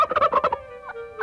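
Wild turkey gobbler letting out a single loud, close gobble: a rapid rattling burst of throaty notes trailing into a brief sustained tone and a short final call.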